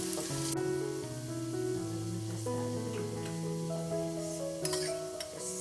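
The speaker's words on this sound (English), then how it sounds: "just to brown the onions and the meat" Onions and mutton brown in butter over high heat, a soft steady sizzle with occasional stirring beneath prominent background music.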